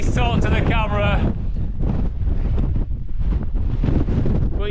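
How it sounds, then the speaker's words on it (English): Strong, constant wind on Helvellyn during a snowstorm buffets the microphone with a heavy, roaring rush that never lets up, while a person talks over it nearby. "the wind is just non-stop"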